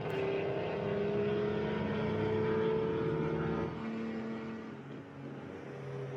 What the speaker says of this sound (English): so a 1915 race car